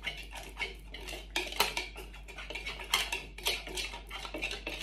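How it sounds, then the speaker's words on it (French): An anti-lump whisk gently stirs milk into cornstarch to make a paste in a bowl. It rattles and clinks lightly against the bowl in quick, uneven strokes, close and moderately loud. "Même si j'ai pris le fouet anti-grumeaux, voilà, ça ne coûte rien de mélanger tout doucement."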